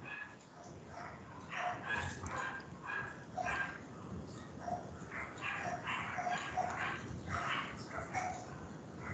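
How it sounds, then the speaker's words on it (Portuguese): Dogs at a neighboring kennel bark nonstop from a distance, a muffled, overlapping chorus of yaps and woofs in uneven bursts, with a faint voice now and then. "é uma cachorrada que não para de latir"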